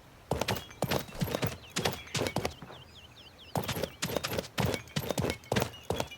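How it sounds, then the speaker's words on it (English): Pip's footsteps in the Paladins video game sound as crisp, rhythmic thumping steps in quick pairs, with a brief pause in the middle. Faint chirpy ambient calls sit in the background. "You hear those footsteps?"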